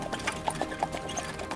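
Horse hooves clip-clop at a slow, steady walk as a carriage pulls away on a country road toward Munich, light repeated clops moderately close with a faint clatter of the carriage.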